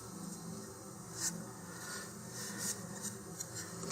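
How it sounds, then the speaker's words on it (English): Fine sandpaper rubs lightly over a model rocket part in short, faint scratchy strokes, a soft close rasping repeated several times. "here I just need to really lightly sand it"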